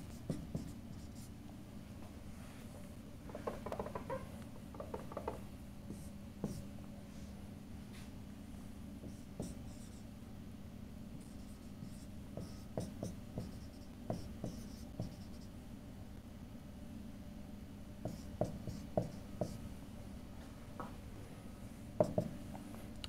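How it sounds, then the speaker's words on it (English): Writing on a board during a physics lecture: quiet, intermittent scratching and tapping strokes, with short bursts and pauses, set against a low room hum over more than twenty seconds. "Let me write it this way."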